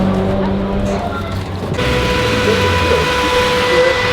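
Drift cars at a European drift event, engines roaring steadily with a broad squealing tire tone over the last half, continuous and fairly close under crowd noise.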